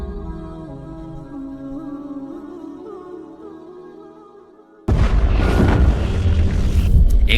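A massive explosion boom erupts abruptly after a low droning musical tone, loud, broadband and sustained with rumbling roar to the end.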